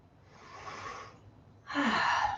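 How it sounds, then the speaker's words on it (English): Two slow breaths during a yoga pose, a soft drawn-in inhale followed by a louder, rushing exhale, close and with no talking. "Couple more breaths, please."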